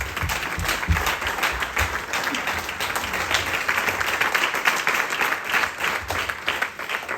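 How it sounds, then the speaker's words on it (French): A church congregation at a night worship service claps and cheers for the Lord, dense sustained applause filling the room at steady loudness with faint crowd voices underneath. "Est-ce que tu peux acclamer le Seigneur?"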